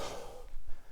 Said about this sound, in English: You have to excuse the heavy breathing